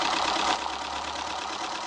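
An experimental Keppe electric motor runs on a low-voltage bench supply, giving a steady, close mechanical whir with a faint low hum beneath it and no voices.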